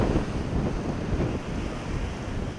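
Rough sea with a heavy southern swell, a continuous broad roar of waves and surf mixed with wind buffeting, loud and unbroken.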